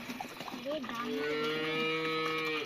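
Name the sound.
cow mooing while being fed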